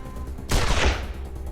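Gunfire in Wasteland 2 Director's Cut comes as one short, loud, harsh burst of shots lasting about half a second, then dies into a low background rumble.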